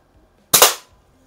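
A single loud, sharp crack from a West German FB Record Jumbo air pistol after repairs, close up with a quick double-peaked burst fading fast into quiet.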